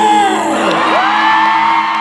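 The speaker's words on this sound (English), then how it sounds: "I expect a blood-curdling scream in response" A convention panel audience in Pittsburgh lets out a loud, sustained collective scream and whooping, a dense wall of voices that holds steady without a break.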